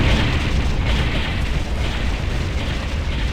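A structure blows up in the real-time strategy game Ground Control, a heavy, continuous rumbling blast with booming low end that stays loud and dense for several seconds without letting up.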